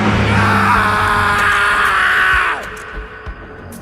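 A man yells loudly and at length, a strained sustained cry that holds for about two and a half seconds before breaking off, followed by a few faint thuds.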